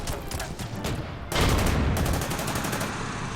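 Artillery and gunfire in the video game Order of Battle, a dense rattling fusillade of repeated shots that swells into a louder, heavier barrage midway.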